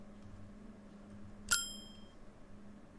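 A single bright bell ding rings out once as a game sound effect, clear and ringing, with its tone fading over about half a second against a quiet background hum.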